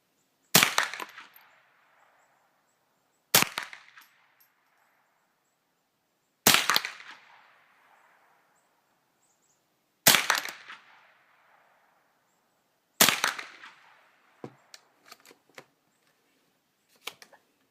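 Five sharp shots from a .22 rifle firing lead round nose ammunition at a paper target, evenly spaced a few seconds apart, each with a short fading tail, followed by a few faint clicks.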